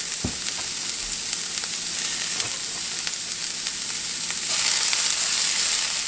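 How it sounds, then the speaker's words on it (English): A single medium shallot sizzles and fries steadily in a hot pan, a continuous bright crackle that swells louder toward the end, with a couple of soft knocks near the start. "So I'm going to throw that into this hot pan."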